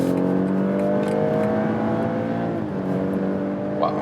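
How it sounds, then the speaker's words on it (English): A BMW X3 M40i's turbocharged inline-six pulls hard under throttle in normal mode, a steady rising engine drone with strong harmonics heard from inside the cabin, continuous and loud for the whole stretch. "even if you're in a normal mode and hit the throttle"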